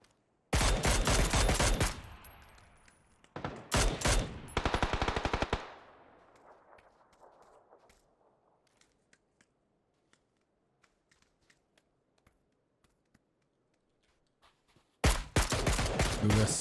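Bursts of automatic gunfire in a PUBG match crackle loud and close in three rapid volleys, then trail off into scattered faint shots before a final loud burst.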